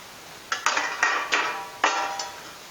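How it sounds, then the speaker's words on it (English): Knife crunching straight through a thin, crispy-crusted homemade pizza, about six sharp crackling cuts in uneven rhythm, close and fairly loud with nothing else over them. "I'm just going to cut it straight through the"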